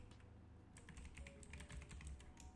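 Rapid typing on a computer keyboard, a quick close run of soft clicking keystrokes that starts partway in and continues steadily, with no talking.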